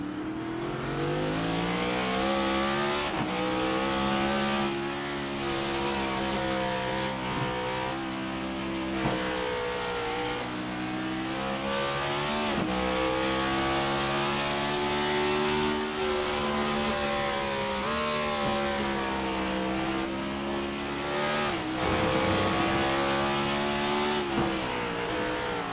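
Onboard race car engine at the Wine Country 90 in the Integrity OCTANE Series, loud and continuous, with harmonic pitch rising and falling through repeated upshifts, downshifts and throttle lifts across the whole stretch.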